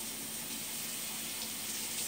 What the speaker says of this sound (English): what I'm doing is I'm rinsing on my pork chop